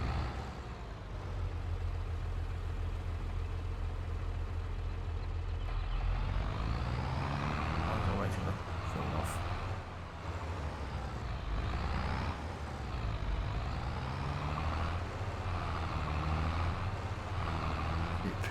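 Truck pulling a large trailer maneuvers to unload on a farm in Farming Simulator 22, a steady low engine rumble rising and falling with revs as it shifts about, with no talking.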